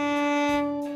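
A bowed viola sounds its open D string, one steady sustained note with a rich, even tone, heard alone and close for about a second.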